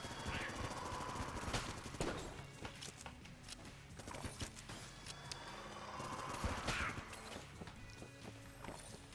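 Dense, steady stream of rapid gunfire and impact effects from the game Enter the Gungeon, continuous and fairly faint over busy in-game sound.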